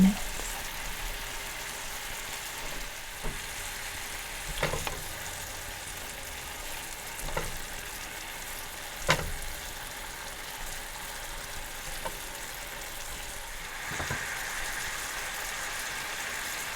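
Caramelized banana slices for oatmeal fry in a pan, a soft continuous sizzle with occasional louder knocks and scrapes as pieces are flipped, close and quiet with no talking.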